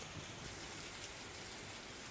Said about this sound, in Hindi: जहां झमाझम बारिश का दौर देखने को मिला